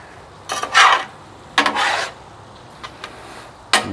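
Cooked steak and cheese being mixed in a pan, with a few scraping, rasping strokes of a utensil against the pan surface in short bursts separated by quieter pauses, close up and without talk.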